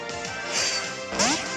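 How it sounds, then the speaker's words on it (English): A critical capture with a Poké Ball in Pokémon Alpha Sapphire gives a bright electronic game effect: a whooshing toss, a rising chime and a second sparkling tone, loud and close with no talking. "that noise you just heard there, it's called a critical capture"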